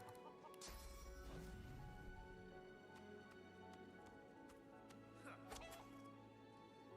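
Chickens cluck in Divinity: Original Sin 2, several birds clucking in short bursts amid game effects, clattering hits and a low ambient drone, with a voice speaking faintly underneath.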